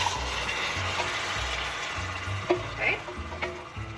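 Canned tomatoes hit a hot pan and sizzle, a steady frying hiss with sharp little pops and splatters over a low hum of kitchen background noise.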